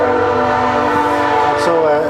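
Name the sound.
train passing by in Valemount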